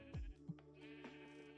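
Sheep bleat in the video game Minecraft, one short sliding bleat and a brief second call close by, over a faint steady background tone.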